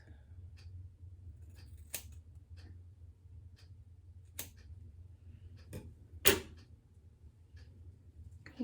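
Scissors snipping through hair during a home layered cut on wavy hair, a handful of sharp, sparse clicks spaced out over a low steady hum, one louder snip near the end.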